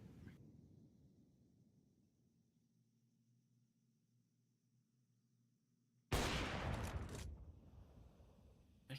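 A sudden loud burst of Counter-Strike gunfire during a wall bang in a competitive esports match, a dense roughly one-second volley that cuts off abruptly, following a stretch of quiet hum.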